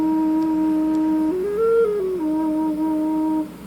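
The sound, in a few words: Native American drone flute playing an E flat note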